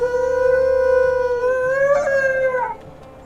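Wolves howling in the video game WolfQuest, a long, steady, loud howl with a second voice joining in overlapping tones, sustained for several seconds before fading out.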